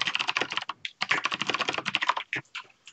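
Rapid typing on a computer keyboard, with dense, fairly quiet key clicks in an irregular stream and a few short pauses.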